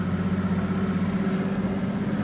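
A bass boat's outboard engine idles on a lake, a steady low throbbing rumble with an even pulsing beat, close and continuous with no talk over it.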